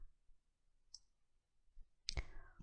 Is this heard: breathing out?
no